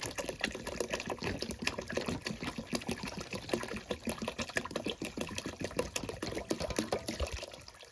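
Water is poured into a hot pan, setting off a dense crackling sizzle of rapid pops and spatters that continues steadily, close and fairly quiet, easing slightly near the end.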